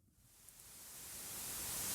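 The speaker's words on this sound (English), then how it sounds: "This is white noise." White noise: a steady broadband hiss that swells gradually louder over about two seconds, heard alone with no voices.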